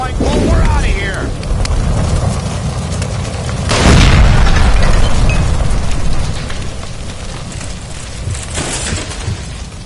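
A gas line beside a stove blows up in L.A. Noire, a deep, loud boom swelling midway through a steady rumbling din that then slowly fades.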